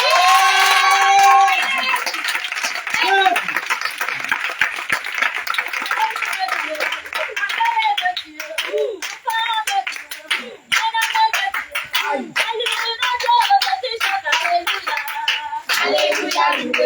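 Congregation at a prayer meeting claps and cheers together, a dense, continuous swell of applause and shouting voices with singing tones rising through it, loud and sustained from start to finish.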